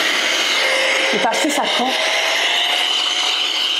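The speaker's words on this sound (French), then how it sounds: "ça c'est un mini souffleur, très puissant" A powerful mini electric air blower used to dust a computer keyboard, running as a steady, loud whirring hiss throughout with a brief voice speaking over it.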